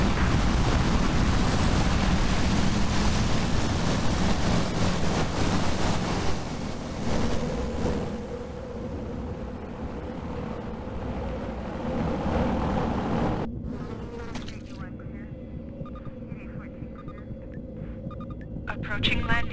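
Transport aircraft lifting off in the Warzone 2100 strategy game, a loud, steady engine roar and rumble that swells, then drops to a quieter hum partway through. A voice speaks over the engine noise.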